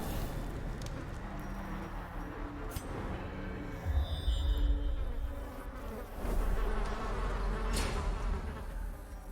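A swarm of insect enemies in Darkest Dungeon buzzing, a dense layered drone joined by louder thumps and swells partway through.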